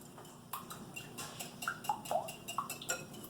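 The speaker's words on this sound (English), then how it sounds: "I'm just going to beat those a little bit until those egg yolks break" Quick, light taps and clinks of a utensil beating egg yolks and wet ingredients in a bowl for a gluten-free clafoutis, irregular and close, fairly soft, with a few brighter ringing knocks against the bowl.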